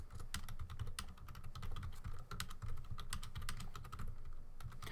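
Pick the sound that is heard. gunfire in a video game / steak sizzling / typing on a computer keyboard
typing on a computer keyboard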